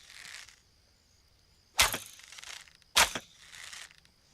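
A wooden arrow is loosed from a bow in a video game, two sharp loud cracking releases about a second apart, each preceded and followed by a softer whooshing draw and rattle.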